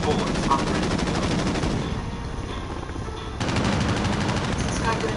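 Rapid bursts of automatic gunfire from a shooter video game, loud and continuous, thinning briefly in the middle before resuming at full intensity.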